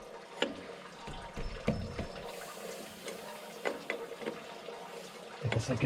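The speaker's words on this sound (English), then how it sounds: "I guess I could drain the air." Compressed air hisses out of a compressor's air tank as it drains in a garage, a steady faint rush broken by irregular clicks and small sputters.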